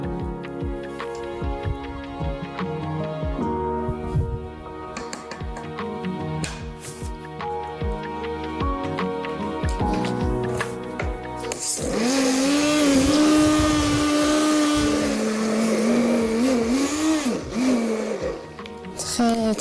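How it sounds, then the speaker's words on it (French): An immersion blender whirs loudly in a kitchen as it mixes an Algerian recipe preparation, its motor droning steadily and rising in pitch, with clattering and talk underneath. "on va mixer le tout avec le mixeur plongeant"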